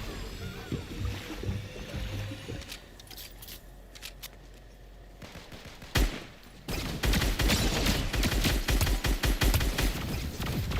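Gunfire in the video game Fortnite during a youth group gaming session: scattered shots and clicks, then a dense run of rapid, loud shots that continues to the end, with no talking.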